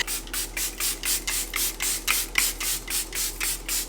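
Makeup setting spray misted onto a face in a steady series of about fourteen short, even pumps, each a close, breathy hiss repeating at a regular rhythm.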